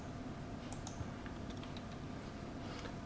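Quiet keystrokes on a computer keyboard, a few scattered light clicks and taps at a distance under a low background hiss, with no talking.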